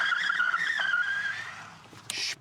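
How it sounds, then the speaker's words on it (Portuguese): Ausom L2 Max DM electric scooter skidding under hard rear mechanical braking, new tires and unbedded pads: a sustained tire squeal that wavers and fades over about two seconds, ending with a brief scuffing burst. "Ora, vamos ao travão de trás, que neste caso é deste lado, é como as bikes."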